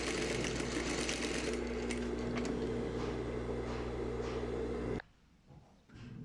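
Sewing machine running steadily while it stitches a lining seam, a loud continuous whir for about five seconds, then it stops abruptly and leaves brief quieter handling noises.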